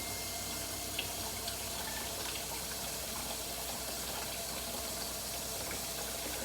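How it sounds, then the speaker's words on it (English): A kitchen tap runs cold water over just-boiled eggs, producing a steady, even gush of flowing water close by for several seconds, with no talking. "I'm just putting them running cold water on them"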